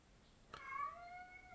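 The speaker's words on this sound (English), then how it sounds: "He's meowing down there. He wants to go outside." A pet cat gives a single drawn-out meow, clear and moderately near, its tone sliding and holding for about a second against a quiet indoor background.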